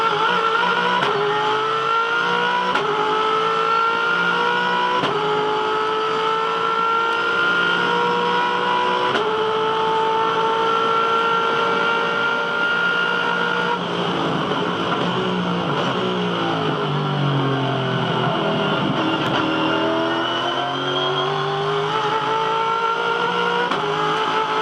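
V8 Supercars topping 600 horsepower race down a back straight at the Tasmania Challenge, engines screaming at high revs with shifting pitch, several cars blending into a sustained loud roar with a passing sweep.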